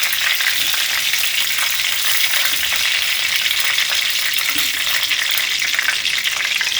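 Chicken pieces fry in hot oil for a chilli chicken, giving a loud, dense, unbroken sizzle heard close up with no voices.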